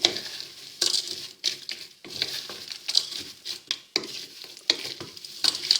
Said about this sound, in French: je vais mélanger à nouveau pour que tout ça prenne un petit peu l'huile